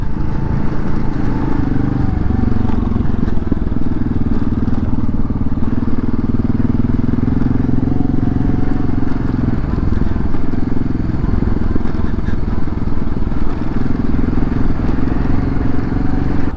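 Motorcycle riding off-road on the Black Hills BDR-X trail in South Dakota, a loud steady engine drone with rumbling wind and gravel clatter throughout, close and continuous.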